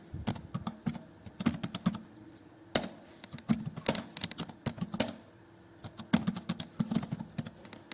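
Fingers tap on a computer keyboard in quick, irregular bursts of close clicks with short pauses between words, and no one speaks.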